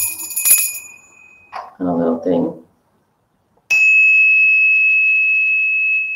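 A small fairy bell topped with an angel rings out clear and bright twice, each time sustaining a long shimmering tone, with a brief spoken comment and a silent gap between the strikes.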